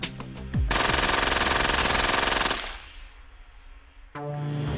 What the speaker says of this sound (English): we had machine guns